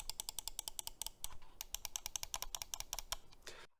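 Side buttons on an EWEADN S9 Pro mouse are clicked in a fast, steady run of crisp taps, close and clear, stopping abruptly at the end.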